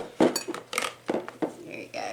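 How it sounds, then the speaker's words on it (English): A small glass set into a bucket while crafting a Halloween candy bowl: several close clinks and knocks of glass against the container, spaced irregularly with brief quiet gaps. "I'm just going to put this little glass right here in my bucket to hold it still"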